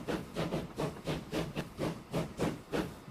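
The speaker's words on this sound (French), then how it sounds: "Voilà, la locomotive à vapeur qui arrive." Steam locomotive pulling into a station in a train simulation game, giving a steady rhythmic chuff of hissing steam, about three beats per second, moderately loud and unbroken, with no voices.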